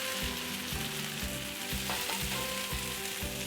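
Mashed potato fries with garlic in a hot pan, giving a dense, continuous close sizzle with soft stirring movements and no talking.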